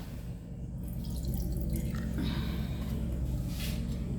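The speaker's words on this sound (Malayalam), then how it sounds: "ചിക്കൻ നന്നായി കഴുകി" Water runs from a tap while chicken is washed, giving a continuous hiss broken by soft splashes and drips.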